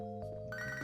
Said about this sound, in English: Okay, fine, we'll answer a phone.